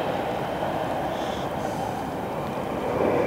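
A train passes with a loud, continuous rumbling roar and a faint high squeal, sustained and close throughout, heard near water during a boat fishing competition.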